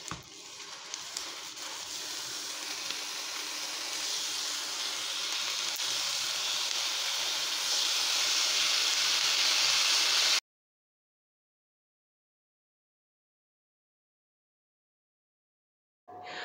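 Homemade hamburger patties frying in a pan, a steady dense sizzle that swells gradually louder for about ten seconds, then cuts to silence before a brief return at the end.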